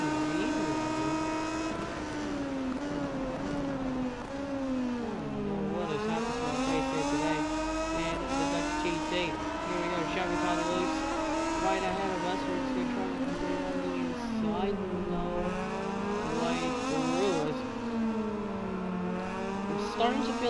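A racing motorcycle in MotoGP 19 at Assen for the Dutch TT screams through a chicane, its engine pitch rising and falling with throttle and gear changes, loud and continuous, with a voice talking over it.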